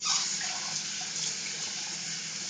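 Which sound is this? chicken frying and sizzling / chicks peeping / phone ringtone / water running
water running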